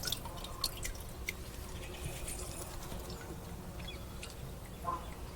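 Asafoetida solution for an organic sesame-farm spray drips and trickles faintly, with scattered close drops over a quiet outdoor background.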